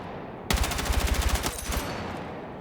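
An assault rifle fires on the firing range in Battlefield 6, a single rapid automatic burst of close, loud shots lasting just over a second, followed by a fading echo and no talking.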